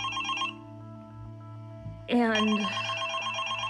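A telephone rings loudly and insistently in the early morning, a bright electronic ringtone cutting in sharply after a quiet stretch, with a single spoken word just before it.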